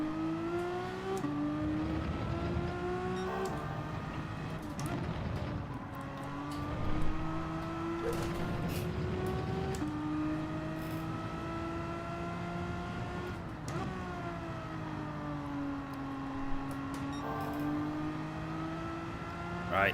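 A race car engine in Gran Turismo 7 at Brands Hatch drones at high revs, with its pitch dropping sharply on downshifts and climbing again as it accelerates, steady and loud throughout.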